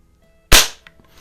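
Single sharp crack of a Crosman 66 Powermaster .177 multi-pump pellet rifle firing, close and loud, decaying quickly into a brief faint rattle.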